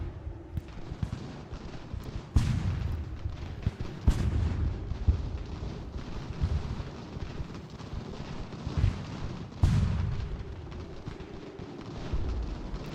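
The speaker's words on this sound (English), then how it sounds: "Hopefully our mortars can scare them away." Mortar artillery fire in Ultimate General: American Revolution: repeated heavy booms and cracks, several loud detonations standing out over a constant rumbling battle din, some near and sharp, others more distant.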